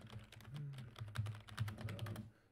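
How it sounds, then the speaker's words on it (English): Quiet, close keystrokes patter on a computer keyboard in quick irregular bursts, with no talk over them. "Sorry, just typing."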